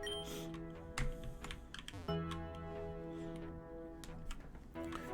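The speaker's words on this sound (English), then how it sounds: "I'm trying to reduce the tick-and-tacking of my keyboard" Continuous computer keyboard typing, steady clicks and clacks running for several seconds beneath background game music, with a few louder key strikes standing out.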